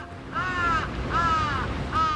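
Crows in Tokyo cawing, three drawn-out harsh calls spaced about a second apart, fairly close and clear over a faint background hum.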